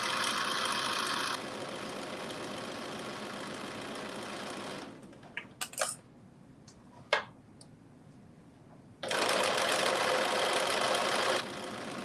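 A sewing machine runs in two loud, steady bursts while stitching the casing on a pair of dressy joggers, with a quieter pause between them holding a few small clicks and taps.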